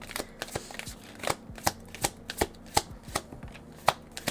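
Tarot cards are shuffled and handled in a series of crisp, close riffling slaps and snaps, about a dozen sharp bursts spaced irregularly, with no voices.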